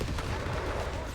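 Mortar and gunfire in a World War II real-time strategy game battle, a dense continuous wash of booming blasts and crackle with no pauses, loud and close.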